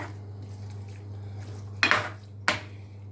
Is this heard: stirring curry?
yes